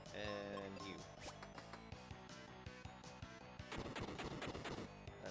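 Bombs exploding in the SNES role-playing game Final Fantasy Mystic Quest, a dense burst of crashing, crackling blasts and clattering impacts over busy chiptune music, loud and continuous with a second flurry near the end.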